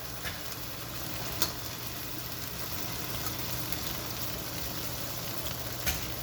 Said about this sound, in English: Now these eggs we're just going to take and scramble them a bit down in there